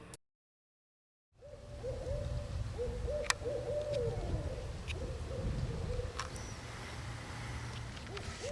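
An owl of a species found across the eastern United States, from Maine to Florida, gives a long series of rhythmic hoots at moderate distance over a low outdoor hum after a brief silence.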